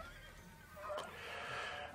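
A horse neighs in a film chase scene with riders on horseback racing alongside trailers on a highway, a brief whinny rising over a steady rumble of hooves and engine noise.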